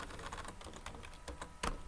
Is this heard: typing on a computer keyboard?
yes